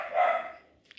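A single near, loud dog bark rings out at an outdoor ultramarathon race briefing, fading quickly, followed by a few faint clicks.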